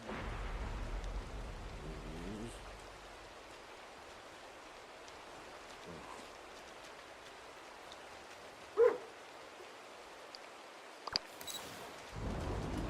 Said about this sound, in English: A storm.